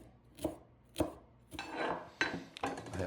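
A kitchen knife rough-chops fresh tarragon on a board: two sharp, separate chops, then a quicker run of close, crisp cuts and scrapes, with no talk.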